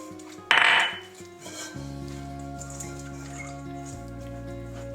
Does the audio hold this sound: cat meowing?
no